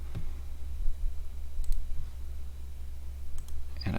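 A few sharp computer mouse clicks tick out at irregular intervals, close and crisp, over a low steady hum with no speech.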